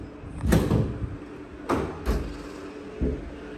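Heavy thuds against a door in a domestic setting, three or four loud irregular bangs spaced about a second apart, close and forceful, with no talk over them.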